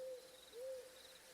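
Two soft owl hoots drift over a faint bed of crickets and ambient night noise in a cozy fantasy forest scene, each a short steady tone, the second slightly rising.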